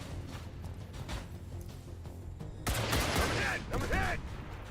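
Gunfire in the turn-based strategy game XCOM 2 against sectopods: a burst of sharp rapid shots and impacts breaks in over a low rumbling background, loud and close, with mechanical whines after it.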